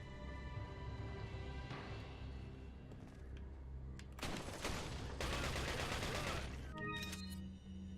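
Rocket launcher blasts in Resident Evil 4, with a burst of loud, dense explosive noise lasting several seconds over steady game music, followed by a shorter blast near the end.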